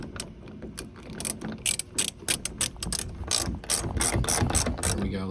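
A ratchet wrench tightens the front roof panel bolt on a 1984 to early 1986 C4 Corvette, making a series of quick metallic clicking bursts with brief pauses between strokes, close up and without speech.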